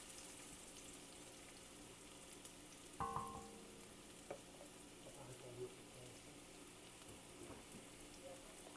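Garlic frying in a pan after water has been added, making a steady low sizzle throughout with a sharper burst of spitting near the start and small pops scattered after.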